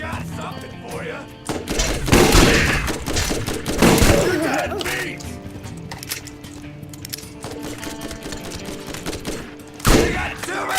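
Gunfire rattles through a firefight in the shooter Borderlands, loud dense bursts and fusillades with heavy thuds layered over a busy game soundscape, and a voice speaks now and then.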